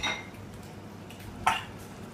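Metal utensils clatter against a cooking pan in two short bursts, one at the start and one later, separated by quiet kitchen background.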